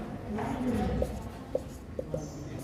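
Chalk writing out a maths answer on a classroom board, a few short scratchy strokes and taps spaced across the moment, with a low voice murmuring underneath.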